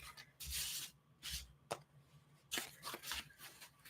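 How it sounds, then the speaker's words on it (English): Tape is pulled and pressed along the seams of a hot-glue shape mock-up, giving several bursts of rasping, crackling noise with a sharp tick partway through, close by in a quiet room. "All I'm doing right now is I am taping these seams together to temporarily hold them"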